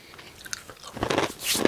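Close, crunchy chewing of a hefty snack in the mouth, a few scattered crunches building into louder, denser munching toward the end.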